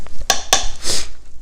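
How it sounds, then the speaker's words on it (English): A lid set onto a crock pot while stew is being made, two sharp ceramic clinks close together followed by a softer scraping settle, close and loud with no talking. "cover up the crock pot"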